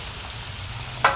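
Bacon and chorizo discada frying on an outdoor disc cooker, a steady loud sizzle with a short louder burst near the end as the meat is stirred.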